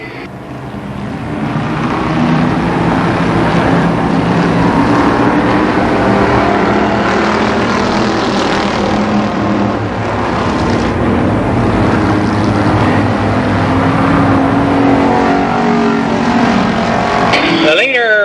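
Stock cars lap Columbus Motor Speedway in a steady, loud engine roar that swells and fades as the field passes, with an announcer talking over the racing throughout.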